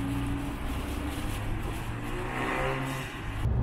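A Honda Civic Type R launches and accelerates hard on a race track, a loud steady engine roar building from inside the car.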